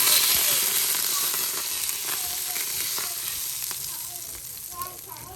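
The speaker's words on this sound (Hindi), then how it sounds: "ऑयल के अंदर ये वाली मिर्चें जो थी ना इनका तड़का तैयार किया था" Chilies crackle and sizzle in hot oil as a tadka for a dhaba-style mash and chana dal, a steady close-up frying hiss with scattered small pops throughout.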